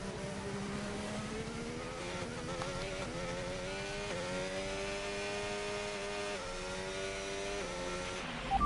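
Formula 1 race car engine from the F1 25 video game, a high-pitched whine holding steady with small pitch shifts and gear changes as the car slows into the pit lane, loud and continuous with no talk.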